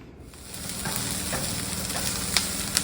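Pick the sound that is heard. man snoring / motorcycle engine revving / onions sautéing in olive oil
onions sautéing in olive oil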